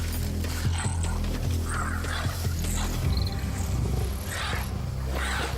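Three lion cubs face off against a fearless mother honey badger defending her cub on the African savannah, with a continuous growling, snarling roar running through dense animal commotion, loud and close throughout.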